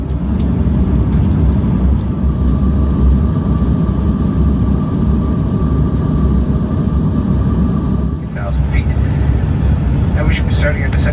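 Inside a Porter Airlines Embraer E195-E2 cruising over the Rocky Mountains, a steady, loud, low cabin roar runs throughout, easing slightly near the end as small clicks and rustles appear.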